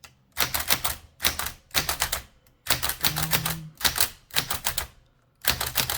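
Clacking keystrokes on a 1920s Helios-Klimax typewriter come close and loud in quick bursts, with short pauses between words and no talking.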